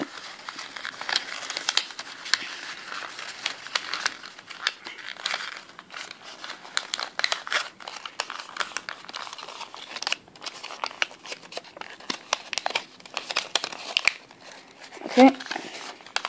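Origami paper is folded and pressed into a Kawasaki rose, with steady close crinkling, rustling and crisp creasing throughout.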